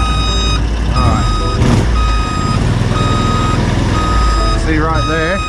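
Loud, steady electronic reversing beeps sound from an 8x8 Argo amphibious vehicle backing up in the bush, with an engine rumbling underneath and someone talking over it.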